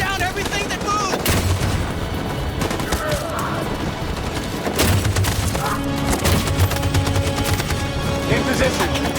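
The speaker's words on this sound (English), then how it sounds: "That machine gun is taking down everything that moves!" Sustained machine gun fire rattles through a chaotic battle in Detroit: Become Human, dense bursts of gunshots and splintering impacts mixed with shouting voices and background music.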